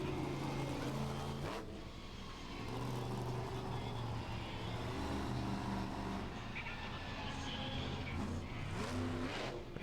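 At a monster truck event, an engine roars and revs loudly as the truck heads for a hill, with sustained throttle swelling and dropping several times amid some crowd and arena noise.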